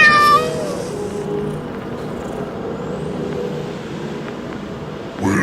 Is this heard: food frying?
no